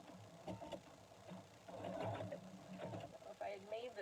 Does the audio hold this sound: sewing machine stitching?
yes